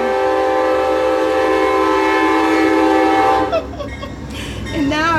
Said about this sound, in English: The train! When it goes by, I can't even hear myself talk.